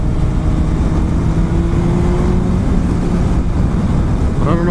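A Honda CBR600RR 600cc sport motorcycle on a test ride, a continuous loud engine drone mixed with heavy wind rush on the microphone and no break for the whole stretch.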